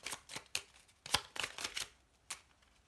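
Oracle cards shuffled for a reading, a close series of crisp riffling bursts and taps in an uneven rhythm, quiet overall, with short pauses between the shuffles.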